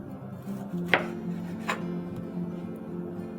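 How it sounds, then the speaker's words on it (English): Oranges are sliced with a knife on a cutting board for a summer salad, a couple of sharp taps as the blade hits the board over a steady kitchen background hum. "And then I'm just going to go ahead and slice these."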